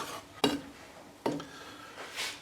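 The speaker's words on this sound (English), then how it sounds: "just give that a good stir just to make sure that everything is mixed in well" Powdered milk and salt being stirred in a mixing bowl, two distinct clanks of a utensil against the bowl followed by a soft scraping swirl, close up with no voices.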